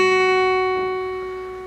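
A single guitar note played at the 2nd fret of the E string rings clear and sustained, close up, fading slowly with no other sounds.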